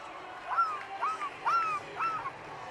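A child imitates a seagull with four drawn-out, wavering mewing cries spaced about half a second apart, close and soft against a quiet background.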